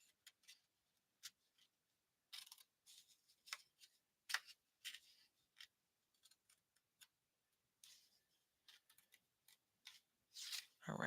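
Scissors snip through card in short, crisp bursts, a scattered series of close cuts and rustles with quiet pauses between them and no talking.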